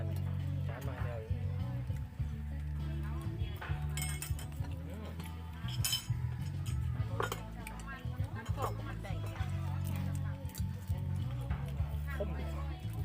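Plates and cutlery clink at a family meal, with scattered light taps and chinks over a steady low hum, while voices talk throughout.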